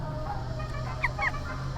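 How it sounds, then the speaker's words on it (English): A chicken gives a couple of short, faint clucks over steady low background hum, with no one talking. "The chicken."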